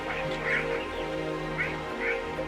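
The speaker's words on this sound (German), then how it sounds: "Wenn ich X drücke, dann quietscht der Vogel." Squeaky, quacking bird calls from the emote in the video game Lighthouse Keeper, several short honking cries repeating at uneven intervals over a low, humming game background.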